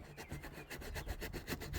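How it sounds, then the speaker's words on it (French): Old glue being scraped off a car body by hand, with quick, even rasping strokes repeating in a steady rhythm, close and fairly quiet with no talk. "ce qu'il faut faire, c'est gratter toute cette colle là"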